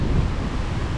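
Sea waves breaking against rocky shore in the Philippines, a continuous low wash and rumble blended with wind noise, no voices.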